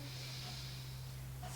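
A deep breath drawn in during a breathing exercise, a soft, close airy inhale over a low steady hum.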